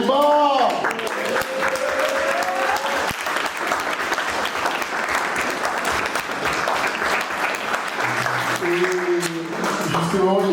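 Audience applauding steadily for the bride's family at a wedding blessing, a dense continuous clapping that fills the room, with a voice and some sung tones rising over it near the end.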